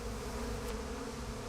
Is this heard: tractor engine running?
no